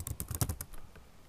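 Quick bursts of keystrokes on a computer keyboard, a rapid cluster of close clicks that thins out into a few scattered taps, with no talking.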